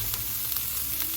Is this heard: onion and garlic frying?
yes